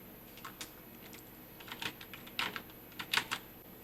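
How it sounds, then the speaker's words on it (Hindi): Keystrokes on a computer keyboard while entering narration text into Tally Prime accounting software, irregular clusters of light clicks at close range, fairly quiet and with no voices. "यहाँ पे हम लोग नरेशन को टाइप कर लेते हैं।"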